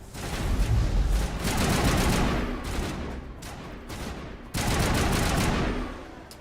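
Sustained bursts of rapid gunfire in Mass Effect, loud and close, with a brief lull mid-way before another long stream of shots; no talk.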